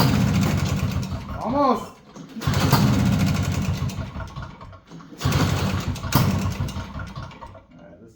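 Small two-stroke Ski-Doo Elan snowmobile engine after a top-end rebuild, cranking and catching twice into a buzzing, uneven idle that dips and surges close by, with a voice briefly heard.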